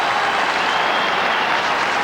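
Spectators at the 1994 Offaly vs Galway All-Ireland hurling semi-final cheer and applaud as a broad, steady roar of a large crowd, continuous and loud throughout.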